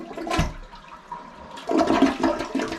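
Glacier Bay dual-flush elongated toilet flushing up close: a sharp initial whoosh, a brief lull, then a loud rushing and gurgling swirl of water draining that continues to the end.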